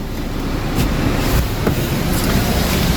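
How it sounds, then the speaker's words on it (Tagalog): A car engine idles with the air conditioning switched on, a steady close rumble and whoosh of blowing air with faint clicks, and no voices. "Hindi ko pa pala binuksan yung aircon."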